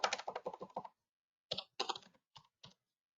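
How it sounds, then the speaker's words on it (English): Quiet clicking of computer keyboard keys as a client name is typed, a quick burst of about eight keystrokes followed by a pause and then several more spaced taps. "Underneath the client name, I would type in Billy."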